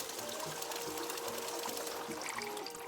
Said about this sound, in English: So you gotta fill it up with water.